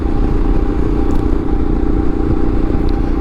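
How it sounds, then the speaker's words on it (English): A 2013 Yamaha Super Tenere 1200 XT motorcycle engine drones steadily up close, with a constant low rumble and no talking. "I ride a 2013 Yamaha supertenere 1200 XT"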